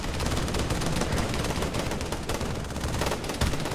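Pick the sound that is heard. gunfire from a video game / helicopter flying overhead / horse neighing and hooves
gunfire from a video game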